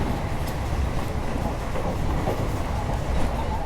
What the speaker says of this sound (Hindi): मतलब ये नौपाड़ा जंक्शन रेलवे स्टेशन है